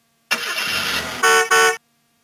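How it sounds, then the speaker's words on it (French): Toy car horns from a 2005 VTech Ma Ville Alphabet toy honk in a traffic jam: a long electronic horn blast followed by two short sharp beeps, loud and close. "Oh, un embouteillage."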